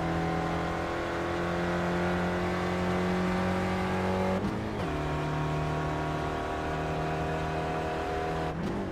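Steady, high-pitched race car engine drone heard from on board in the iRacing sim at Silverstone, holding a constant whine with two brief dips as gears shift, loud and continuous without voices.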